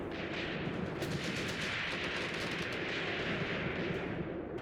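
Tank gunfire in the WWII game Tank Warfare: Tunisia 1943, a dense, continuous roar of overlapping shots and rumbling battle noise at steady high loudness with no gaps.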